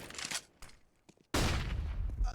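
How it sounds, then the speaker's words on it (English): Counter-Strike gunfire through a wall, a few scattered shots and clicks, then a loud sudden burst of fire that rumbles on, close and without talk. "What is that wall bang?"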